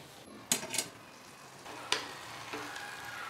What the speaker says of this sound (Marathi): मिक्स करून घेऊया थोडंसं।